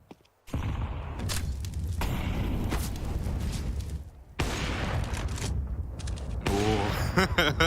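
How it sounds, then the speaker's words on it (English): Gunfire in a Counter-Strike pro league match, an AWP sniper rifle cracking off over continuous loud game action, with a brief quieter gap midway and voices talking throughout. "You hear that AWP firing off, and it just puts the fear in you."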